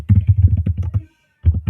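Rapid clicking of a computer keyboard, a quick burst of keystrokes, a short pause, then a few more taps, close and crisp.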